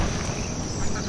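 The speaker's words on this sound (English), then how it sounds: "This is the ducks." Ducks quacking in the farming city-builder game Banished, a steady dense flock chatter filling the whole moment with no pauses, under continuous game ambience.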